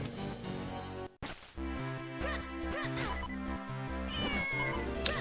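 A cat meows in The Minish Cap video game, short in-game cries heard over constant chiptune-style music, with a bright sharp blip near the end.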